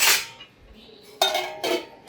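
A dish is set down in a home kitchen during chicken cooking, giving short bright clinks of crockery and metal, a sharp knock at the start and two more clattering hits later, close and fairly loud.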